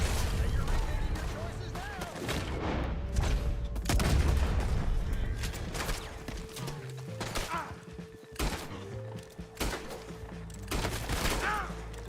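Gunfire in the Western video game Red Dead Redemption 2: a dense fusillade of repeated shots and booms over a continuous rumble, with a voice speaking through parts of it.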